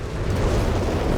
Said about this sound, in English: Now the whiz-bang barrage here out of Dexn.